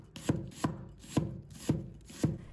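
A knife slices half an onion into thin strips on a cutting board, five crisp, evenly spaced chops about half a second apart, close and clear with no talking.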